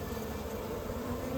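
Honeybees from an agitated hive give off a dense, continuous buzzing drone that is steady and moderately quiet, heard alone without talk.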